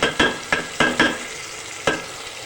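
Onions frying in a pan with garlic ginger paste for a Bihari-style fish curry, a soft steady sizzle broken by five sharp scraping stirs of a spoon, close up and with no talking.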